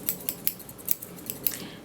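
A pair of hair-cutting scissors snips close up, about eight quick, crisp metallic cuts in a steady rhythm, with no voices.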